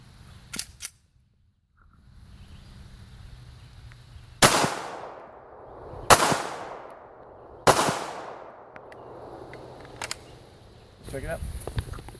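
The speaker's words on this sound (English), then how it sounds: "we're going to test it with the 45 ACP using the 230 grain full metal jacket" Three sharp, loud pistol shots from a .45 ACP firing 230 grain full metal jacket rounds at a ceramic plate, each cracking and ringing out with a decaying echo, spaced about a second and a half apart, with outdoor talk around them.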